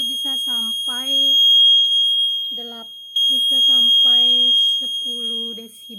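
A Quake Alarm earthquake detector running on a 9-volt battery emits a steady, piercing high electronic tone nonstop, while someone speaks over it in bursts.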